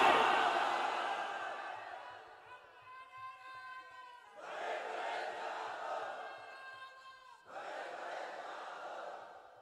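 Large religious gathering at a Bangladeshi waz sermon, with a crowd roaring the takbir, Allahu Akbar, in unison: several loud, swelling collective shouts in succession, each rising and then fading.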